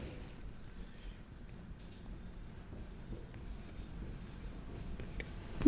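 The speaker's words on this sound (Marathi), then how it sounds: "सो मी तो फॉर्म्युला इथे लिहिते" Chalk or marker scratches across a classroom board as a math formula is written, faint continuous scraping strokes under quiet room noise, ending in a brief louder knock.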